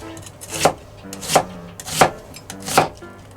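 A large onion sliced in half with a knife on a cutting board in a home kitchen, four crisp chopping thuds at an even pace, close and clear with no talk.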